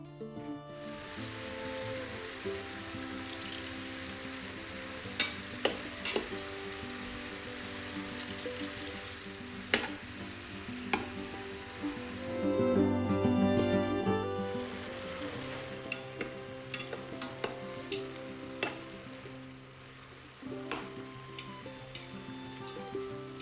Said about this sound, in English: We add around 50 grams of butter and we cook the meat very well.